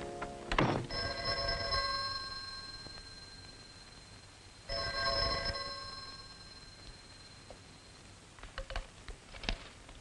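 A telephone rings indoors in two separate bursts of bright bell-like tone, fairly quiet, with faint handling clicks near the end and no talk.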